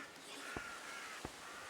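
Two harsh crow caws from the video game REKA, spaced about half a second apart over a soft hiss of ambient background.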